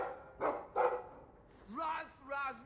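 A dog in the PC game Dragon Age II gives two quick, close barks, followed by a pair of longer voiced sounds, all fairly quiet against a low background.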